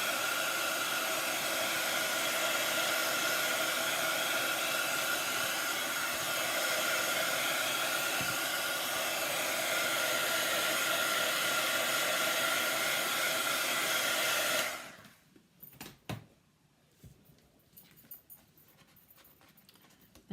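A handheld heat tool blows a steady, loud whoosh over a handmade card for about fifteen seconds, then cuts off, leaving quiet handling noises.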